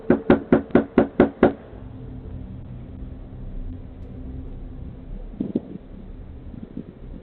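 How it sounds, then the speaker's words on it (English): A man knocks loudly on a front door, seven rapid, evenly spaced heavy raps close up, then a quiet pause broken by a softer thud or two, picked up by a doorbell camera. "the guy started knocking loudly on the door"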